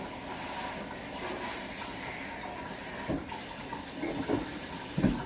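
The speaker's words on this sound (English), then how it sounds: "Here the might of the kitchen hose." A kitchen sink hose sprays water in a steady hissing rush, with a few clunks and splashes toward the end as it hits dishes.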